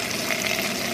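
A water pump runs steadily at close range in a gold-prospecting setup, producing a continuous broadband rushing hum with gushing water, no voices.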